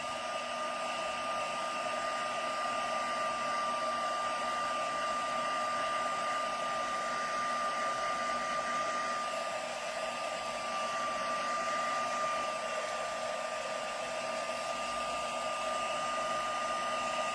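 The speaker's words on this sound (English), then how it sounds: "I'll go in for one last blast of the heat tool" A craft heat tool blows steadily to dry mica on a floral handmade thank-you project, a constant loud whooshing drone with a high whine, unbroken and close throughout, with no speech.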